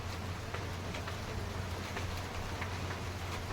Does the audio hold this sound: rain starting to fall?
yes